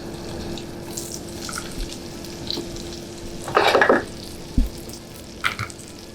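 Butter browns in a pan toward beurre noisette, a soft steady sizzle punctuated by a brief louder crackling burst and a few clinks of a utensil against the pan.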